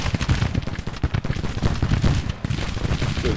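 Dense, continuous volleys of musket and cannon fire crackle through a Civil War video game battle, loud and close, with overlapping shots and no pauses.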